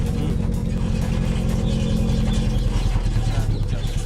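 A very long homemade car, with the silencer hanging low, runs with a loud, steady, rumbling engine and exhaust drone close by, the deep throb continuous and slightly rough.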